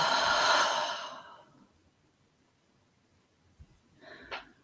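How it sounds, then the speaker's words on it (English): A forceful, loud exhale during guided meditation, a long breathy rush that fades over about a second, followed by silence and then a softer second breath near the end. "exhale as loudly as you can 3 times"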